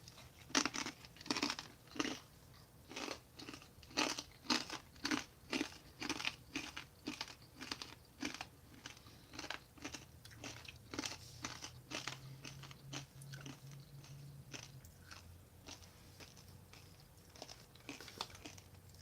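Crunchy snack from a 2017 Canadian IMP ration being bitten and chewed close up, a steady run of crisp crunches with wrapper crinkling, slowing toward the end, no talking.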